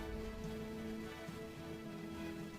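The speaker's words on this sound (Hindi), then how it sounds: "बारिश हो रही है।" Rain falling steadily in a soft, continuous wash with no breaks, fairly quiet and heard alone without any voices.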